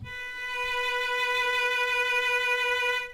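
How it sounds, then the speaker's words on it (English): A violin sounds a single sustained B note on the A string in first position, one steady bowed tone with rich harmonics held for about three seconds, close and clear with no talking. "We'll leave a space and play a B."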